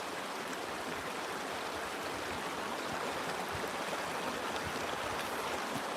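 A creek swollen with recent snowmelt runs steadily and evenly, its broad rushing wash of water holding at a constant level with no voices.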